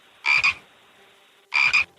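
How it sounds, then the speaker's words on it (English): Two loud, close frog croaks about a second apart, each a short rasping burst, played alone against near silence as a mystery sound in a radio quiz. "That would be a frog. It's a frog."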